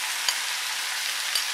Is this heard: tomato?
yes